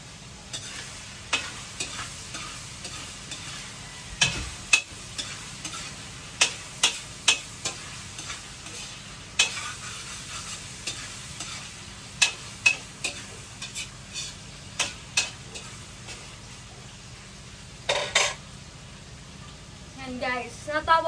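Pansit noodles being stirred and fried in a pan, with soft sizzling under repeated scraping and clacking strokes of a utensil, mid-distance and fairly faint, with some background talk.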